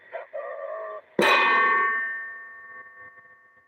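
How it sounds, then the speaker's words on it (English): A metal spring is struck once with a sharp clang, leaving a bright, ringing metallic tone that slowly decays over a couple of seconds, following a brief faint sound just before the hit. "when I hit the spring, it would sound stupid on my end, so you wouldn't hear what it really sounds like"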